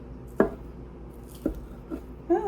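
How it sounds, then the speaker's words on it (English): A large chopper cuts leftover Thanksgiving turkey into bite-sized pieces on a board, four distinct dull thunks spaced irregularly, close and fairly quiet with no talking. "I'm just going to chop the turkey up in bite-sized pieces"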